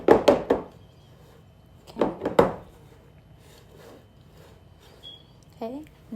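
Bundt pan of Oreo cake batter being banged down on a counter, a few hollow knocking thumps in quick clusters near the start and middle, close and fairly loud, with quieter handling noises between.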